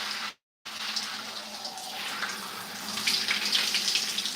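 Water runs steadily from a tap while hair is rinsed, a soft continuous splashing flow with a brief break near the start, then growing slightly fuller and brighter toward the end.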